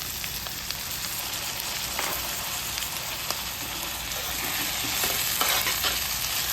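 Onion and chopped tomatoes fry and are stirred in a pan for a Sindhi-style seyal aloo bhindi, a steady close sizzle with scraping stirs throughout and no talking.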